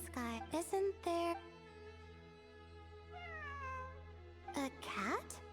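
A cat meowing in the video game Genshin Impact, several short rising and falling mews, then a longer drawn-out meow amid an ambient game soundtrack.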